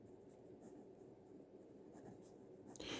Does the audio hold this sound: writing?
yes